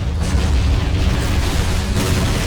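Artillery shells explode in a Men of War battle, a dense, loud rumble of overlapping booms and bursts filling the scene continuously, no voices heard.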